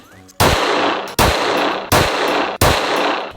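Four loud, sharp rifle shots ring out in a steady rhythm, about three quarters of a second apart. Each crack has a short decaying tail. They are fired at a can 40 metres away.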